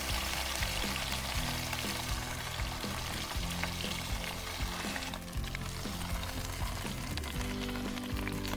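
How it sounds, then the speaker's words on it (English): Food sizzles and fries steadily in a few tablespoons of hot oil in a camp oven, a continuous crackling hiss with occasional stirring scrapes, heard close and alone. "whack a couple of tablespoons of oil in her, and wait till she heats up a bit, and then in she goes"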